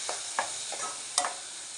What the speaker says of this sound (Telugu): మనం కలుపుకుందాము, ఎందుకంటే కలిస్తేనే కదా మగ్గుతుంది